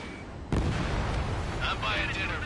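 Missile launch in the combat flight game Ace Combat 7: a sudden loud whoosh-blast onset that sustains as a roaring rush, with radio voices chattering over it.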